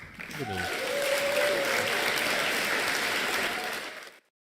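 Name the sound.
applause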